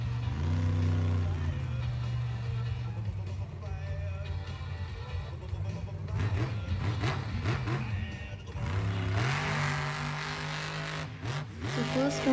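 Monster trucks race at the LIWA Festival in Abu Dhabi, their engines roaring and revving steadily through the whole stretch, with rising surges and some tire noise, loud and continuous in an outdoor arena.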